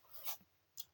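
A teacher writing out a math solution for a class 12 maximum and minimum value problem, two short scratchy strokes of chalk or marker close by, alone without talk.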